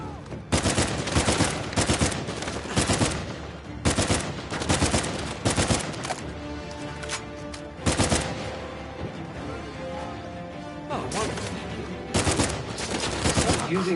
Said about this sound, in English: This is nothing but gun battles from here on out.